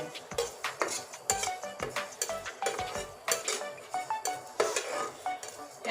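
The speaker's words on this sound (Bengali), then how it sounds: "এই দেখুন সুন্দর করে আমি ভেজে নিচ্ছি" Whole spices fry in a pan for homemade green chilli pickle while a metal spoon repeatedly stirs and scrapes, with frequent clinks against the pan over a steady sizzle.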